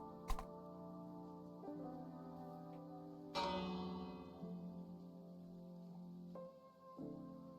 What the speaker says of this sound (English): Completely accidentally, I've made a doorbell.